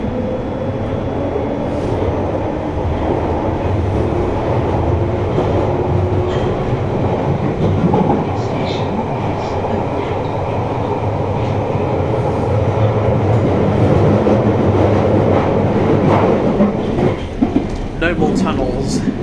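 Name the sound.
London Underground Piccadilly line train running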